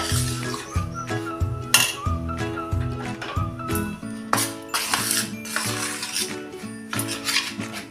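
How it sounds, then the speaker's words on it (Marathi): A spoon scraping and clinking against a bowl while mixing chakli flour dough, a busy, close, continuous run of metallic knocks and rubs with no talk. "चमच्यानं एकसारखं मिक्स करून घ्यायचं आहे"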